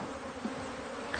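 Honeybees at old-style reed beehives, a dense continuous buzz that is steady and moderately close, with no voices.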